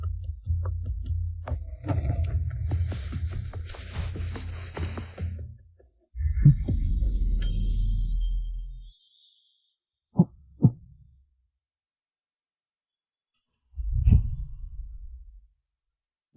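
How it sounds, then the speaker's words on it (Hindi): A heartbeat sound effect plays as deep, muffled low thuds: rumbling pulses, then a sharp doubled beat, then another lone throb, each separated by stretches of silence. "मेरी धड़कन इतनी तेज क्यों है?"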